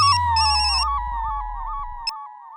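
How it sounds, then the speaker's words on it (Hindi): A telephone rings with a warbling electronic trill repeating rapidly over a low hum, loud and close, ending abruptly with a click. "ये थापा फोन क्यों नहीं उठा रहा?"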